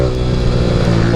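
A Yamaha R15 motorcycle fitted with an Akrapovic exhaust revs hard at full throttle, a loud, close, sustained engine roar with strong harmonic drone and no pauses.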